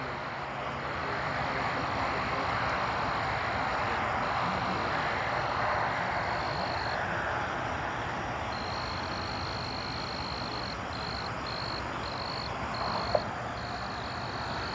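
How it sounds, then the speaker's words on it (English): A cricket chirps in a steady high-pitched trill that keeps breaking into short pulses, fairly loud and close, over a constant wash of low background noise. "It's a damn cricket back here, trying to be the star of the show."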